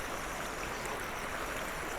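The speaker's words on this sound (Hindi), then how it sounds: "उसके जस्ट पीछे एक बहुत छोटी सी नदी बह रही है" A small, clear river flows just behind a roadside restaurant on the route from Almora to Jageshwar, making a steady, even rush of water that stays constant and fairly soft.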